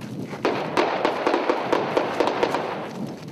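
Gunfire from jihadists firing at a military battalion in Mali crackles from a distance, a rapid irregular string of sharp reports over dense, continuous background noise with no clear talk.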